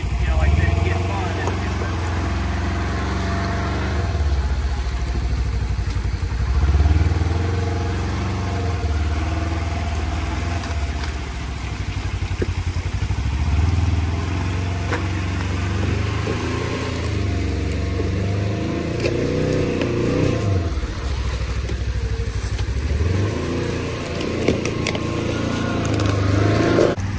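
A 2024 Can-Am Defender Limited and a Polaris Xpedition Northstar UTV maneuver on a trail, their engines idling and revving steadily through repeated forward and reverse turns, with someone talking over the engine noise throughout.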